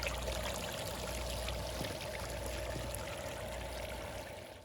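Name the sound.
water trickling over rocks in a landscape water feature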